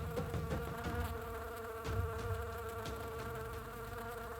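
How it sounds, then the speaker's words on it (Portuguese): Insects buzz steadily at a distance in a dry savanna at dawn, a continuous low droning hum that holds at an even level throughout. "interrompida apenas pelo zumbido distante dos insetos que anunciam o calor que se aproxima"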